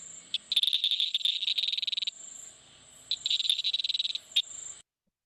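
Frogs from Indian grassland call in chorus, rapid pulsed trills in two long bouts over a steady high insect-like whine, close and fairly loud with no voices.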